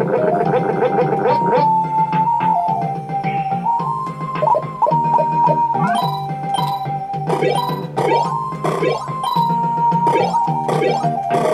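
Comical fart sound effects from the Super Famicom game Super Genjin 2, sputtering bursts over a looping chiptune melody, loud and repeated in quick succession with no talk.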